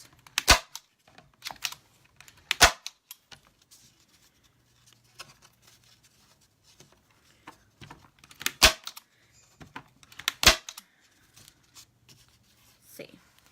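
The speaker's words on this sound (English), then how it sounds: "we're just going to nail gun right over the top of them" A nail gun driving nails into kite door hanger pieces, sharp loud snaps in small clusters, with quiet shuffling and handling between shots.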